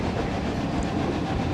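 A roller coaster train rolls along its track in a theme park video game, giving a steady rumbling clatter of wheels that stays constant and moderately loud throughout, with no voices.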